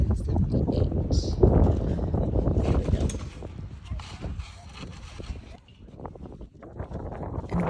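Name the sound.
wind noise on the microphone outdoors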